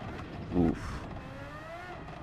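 A Red Bull X2019 racing car with a V12 engine in Gran Turismo 7, lapping the Nürburgring, gives a steady, close engine drone whose pitch climbs smoothly, with a brief louder surge early on.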